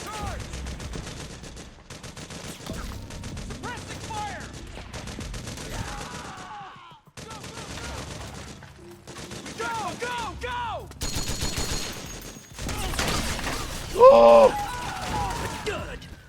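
Gunfire in the video game Metal Gear Solid 4 comes in scattered bursts and single shots over roughly sixteen seconds, mixed with game music and effects, with voices talking through most of it.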